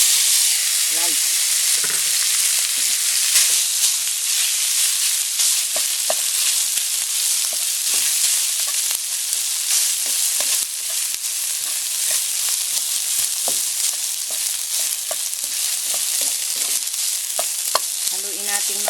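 Rice fries in longganisa oil with garlic over low heat, giving a steady, bright sizzle broken by scraping stirs and clicks of the utensil throughout, with no talking.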